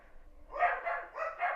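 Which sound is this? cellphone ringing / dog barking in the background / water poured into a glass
dog barking in the background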